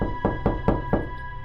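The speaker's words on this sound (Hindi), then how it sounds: "ड्राइवर ने हिम्मत करके दरवाजे की सांकल खटखटाई।" Four slow, evenly spaced knocks rap on a door with a chain latch, each a dull close thud over a steady low hum.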